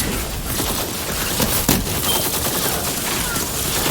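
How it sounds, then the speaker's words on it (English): A missile barrage in Borderlands 3, a continuous roaring wash of rapid blasts with one louder burst midway, under a dense game mix. "That missile barrage though, crazy damage."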